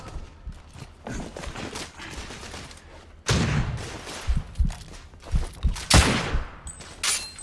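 Shotgun fire from specialist enemies in The Order: 1886, starting with scattered sharp shots and building into a louder barrage of heavy blasts and rapid bursts in the second half of the clip, with no speech.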